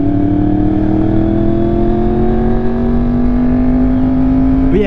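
A Range Rover passes close by, its loud steady engine drone rising slowly in pitch over several seconds before a brief shift at the very end, heard alone without talk.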